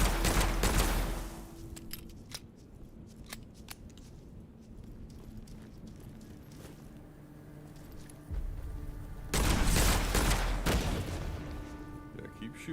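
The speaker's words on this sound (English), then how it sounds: "Shooting at the walls." Video game gunfire peppers walls in rapid volleys, loud at the start and again near the end with a quieter stretch of scattered shots between, while a player talks over parts of it.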